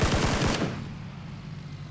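Rapid automatic gunfire in the PUBG video game fires as a quick burst of close, loud shots for about half a second, then a lingering echoing tail and one more sharp crack at the end.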